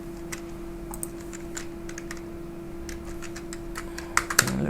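Clacking keystrokes on a computer keyboard, irregular and fairly close, typed in short bursts over a steady background hum, with a few louder taps near the end and no talk.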